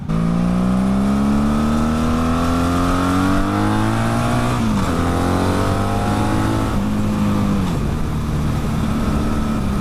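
A Duramax diesel truck engine revs loudly and close by. Its drone climbs in pitch, drops sharply twice with gear changes, then climbs again, with no talking.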